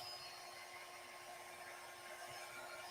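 A heat embossing tool runs steadily while melting embossing powder on a floral zipper card, a continuous close, faint whirring hiss with a thin high whine and no pauses.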